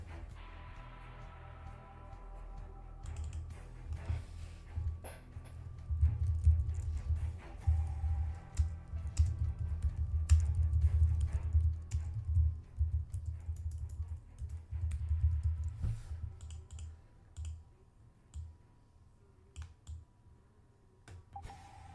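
Typing a news headline on a computer keyboard produces rapid, uneven key taps that run for a long stretch over a low rumbling hum, growing busier in the middle and then thinning toward the end.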